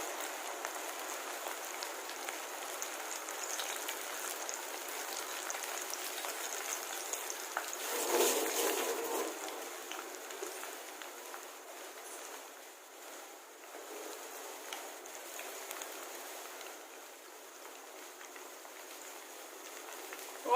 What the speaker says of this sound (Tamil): ஆயில் ஹீட் ஆனதுக்கப்புறமா மீடியம் ஃப்ளேமில் வச்சு ஃப்ரை பண்ணுங்க.